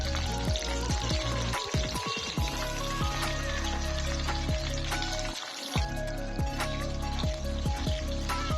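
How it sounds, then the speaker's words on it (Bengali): Eggplant pieces frying in hot oil with poppy seed paste, a loud, steady sizzle with crackling pops and occasional scraping stirs throughout, no voices. "টুকরো করে কেটে রাখা বেগুন দিয়ে দিলাম"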